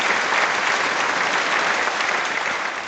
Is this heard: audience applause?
yes